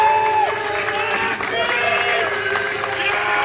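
A live esports crowd at a StarCraft 2 championship applauds and cheers for a player introduction, dense sustained clapping filling the room at loud volume with no break.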